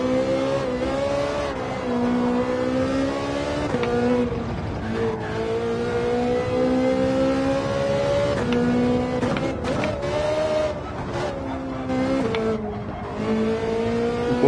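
Race car drifting in Gran Turismo 7, played on a Logitech G Pro wheel: a loud, steady engine drone holding high revs with shifting pitch and brief tire squeal, continuous throughout.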